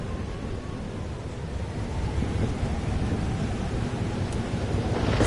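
Steady rain and rumbling thunder from a storm in Life is Strange: Double Exposure, a continuous wash of downpour that grows slightly louder toward the end, with no voices.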